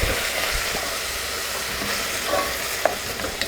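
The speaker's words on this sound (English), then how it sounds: "We're going to add in our butter. And just kind of let that melt." Butter melting in a pot for smoked chicken soup, giving a steady soft sizzle and hiss throughout with a few faint clinks near the end, with no talking.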